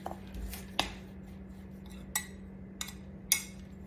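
Quiet clinks of a utensil against a bowl while coffee cake crumb topping is stirred, a few scattered taps over a low steady hum.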